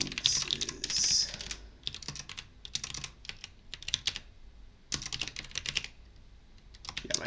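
Rapid typing on a computer keyboard whose O key double-clicks, close and crisp, coming in dense bursts of keystrokes separated by brief pauses, with no voices.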